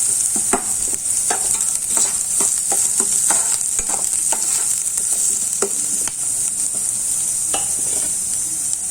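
Finely chopped medium-sized onion frying in a pan for tomato chutney, a steady close sizzle with repeated scraping strokes of a stirring spoon throughout.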